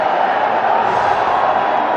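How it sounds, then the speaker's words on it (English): A large cricket crowd at a Bangladesh versus England one-day international roars and cheers continuously, a dense, loud wash of noise with no clear breaks. "Listen to the crowd now, delighted that he was given not out"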